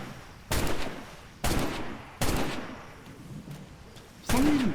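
Video-game gunfire from a roleplay server: four separate heavy shots spaced about a second apart, sharp and loud over a noisy background.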